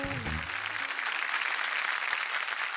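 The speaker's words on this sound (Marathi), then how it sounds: "एकदा जोरदार टाळ्या झाल्या पाहिजेत" Studio audience applause on a Marathi TV game show, steady clapping that rises after a brief musical sting and holds at a moderate level throughout.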